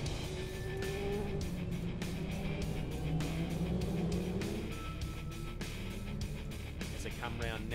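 Saloon race cars circling a speedway oval, heard as a continuous roar of several engines passing near and far, with a commentator talking over the noise.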